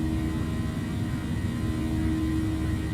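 Airbus A319 jet engines in Microsoft Flight Simulator hold a steady, loud, continuous drone with a low tonal hum during the climb, alone and unbroken throughout.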